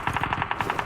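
Rapid automatic gunfire in PUBG Mobile, a steady burst of evenly spaced shots repeating about ten times a second, loud and close with no talk over it.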